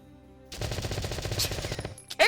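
Gunfire in the Valkyria Chronicles video game, a dense sustained burst of rapid automatic shots lasting about a second and a half, followed by a brief sharp metallic clink near the end.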